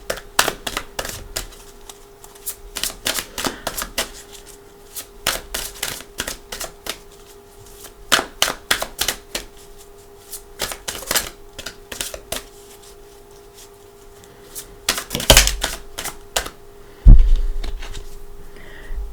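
Tarot cards being handled and drawn from the deck, a long series of crisp, irregular clicks and flicks over a steady low hum, with a couple of louder thumps near the end.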